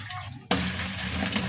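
Water gushes suddenly into an open pan, a loud steady splashing pour that starts after a brief quiet moment and keeps running, as a small amount of water is added to steam sweet potatoes.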